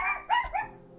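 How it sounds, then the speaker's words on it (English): A pet dog gives one short, sharp bark with a yippy edge, fairly close and alone, then quickly fades. "Oh, my dog's barking."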